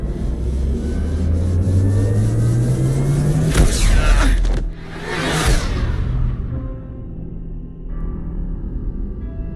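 A spaceship drive accelerating in the video game Mass Effect 2, a loud rising whine that climbs in pitch, then two powerful whooshing surges before the roar fades to a low hum.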